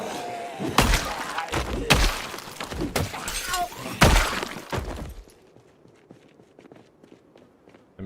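Glass shatters repeatedly in the zombie survival game Project Zomboid, several loud crashing bursts over about five seconds mixed with thuds and footsteps, then falling away to quiet scattered ticks.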